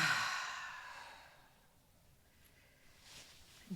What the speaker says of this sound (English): I'm going to take another inhale.